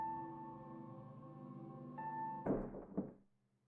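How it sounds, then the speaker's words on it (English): A dull thud as something hits a wall in a visual novel, landing over a steady hum of music, followed by a second softer knock before everything fades out. "Something hits the wall with a thud."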